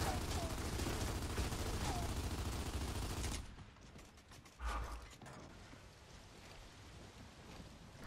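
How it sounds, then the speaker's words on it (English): Gunfire aimed at the ground in Gears of War: Judgment: a dense, loud rattle of shots for a few seconds, then an abrupt drop to quieter ambience with one heavy thud. "I shoot the ground here to show you exactly where it is"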